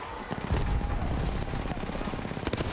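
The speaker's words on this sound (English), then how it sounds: "Hal shooting in the dark through that smoke" Gunfire in an Apex Legends grand-finals match, with rapid bursts of shots and sharp cracks in a dense rattle that settles into quicker clicks near the end, over a steady game backdrop.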